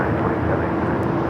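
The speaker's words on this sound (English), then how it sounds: "This is Alaska Airlines 1305 taking off to Seattle on the 737-900ER" Alaska Airlines Boeing 737-900ER taking off from Los Angeles airport: a steady, loud, broadband jet roar with a low rumble that holds evenly throughout, no distinct events over it.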